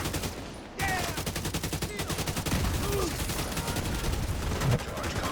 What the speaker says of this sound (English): That was a well-placed grenade